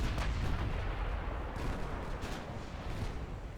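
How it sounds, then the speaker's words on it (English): Heavy naval guns from 1930s-era battleships, including Rodney, boom in a rolling, continuous barrage inside a historical British naval strategy game, dense overlapping blasts with no pauses and no voices. "I'm going to turn the battleships. Get some more guns on target"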